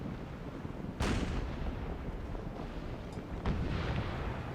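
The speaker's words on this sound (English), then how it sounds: "This ship is gonna explode." A sailing-era warship explodes during a naval battle in the Imperial Splendour campaign as Prussia, a heavy booming blast followed by a second burst a few seconds later over a constant roar of battle, loud and rumbling, with no talking.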